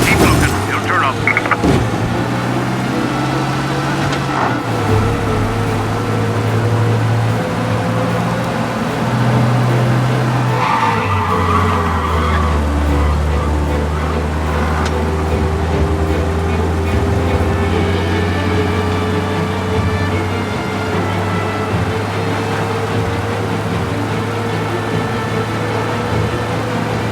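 A car racing fast in the video game Mafia Definitive Edition, its engine droning steadily with tire noise and occasional skids, loud and continuous under a mix of game sounds.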